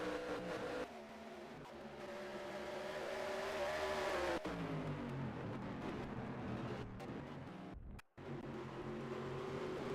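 Race cars roar past the start-finish line during a heat race of the Sylvania Cup Grand Prix at Lakeside Park, Australia, a loud continuous engine drone that swells near mid-clip, then drops sharply before resuming.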